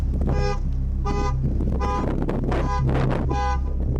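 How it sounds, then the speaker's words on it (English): A car alarm blares in repeated horn-like bursts, about six evenly spaced honks over a constant low hum, loud and close with no talking. "Why's the car going off?"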